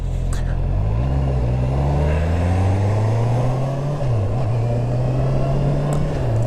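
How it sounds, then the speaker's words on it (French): Honda CB650R four-cylinder motorcycle engine on its stock exhaust, a steady mid-pitched drone that holds fairly level with a brief dip and recovery partway through, close and continuous with wind noise and no talk. "le son est pas si présent que ça au niveau du 4 cylindres, il est là, mais avec le pot d'origine c'est vrai qu'on l'entend pas trop"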